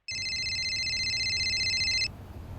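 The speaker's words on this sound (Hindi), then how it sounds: "अरे कोकिला, देखो तो किसका फोन है?" A phone rings with a steady electronic trill for about two seconds over a low background hum, then stops.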